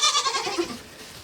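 A baby goat lets out a single short, nasal bleat, close and fairly loud, fading within about a second.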